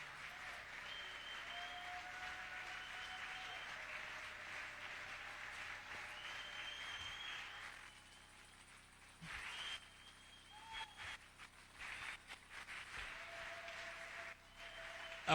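A church congregation claps and cheers at a French-language seminar, steady sustained applause at moderate distance that thins out and fades after about eight seconds, with a few scattered claps and tones continuing.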